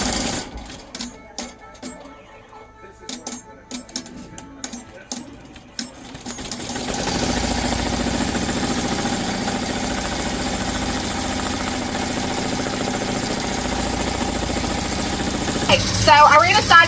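An embroidery machine stitches a side bow design at a steady, continuous mechanical whir, loud and close, starting after a few seconds of sparse clicks and handling noise and running on without a break.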